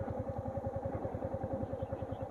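A motorcycle engine runs at a low, steady, rapid putter as the bike starts to roll forward with the clutch held. The note stays even and close throughout, with no voices over it.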